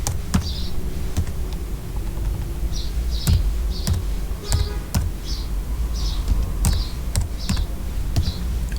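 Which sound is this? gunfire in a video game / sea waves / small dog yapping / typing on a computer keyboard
typing on a computer keyboard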